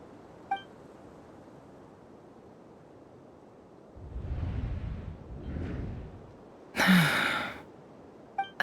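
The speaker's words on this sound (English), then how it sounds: "I heard Yehuda gasp" A character in the Genshin Impact video game lets out a short breathy gasp, heard as a few soft bursts near the middle, then a sharper, louder intake of breath, with faint electronic beeps at the start and end.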